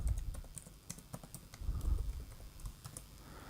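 Keys tapped out on a computer keyboard while entering email login credentials on a webmail page, a quick uneven run of close, soft clicks with brief pauses, no voices.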